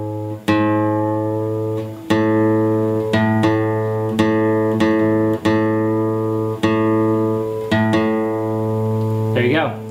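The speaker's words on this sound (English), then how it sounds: "I'm going to make the adjustments to the A to make sure it sounds the same." A guitar's A string is plucked again and again against the E string at the fifth fret while it is brought into tune. The paired ringing notes come at a steady pace, with small pitch shifts between the plucks.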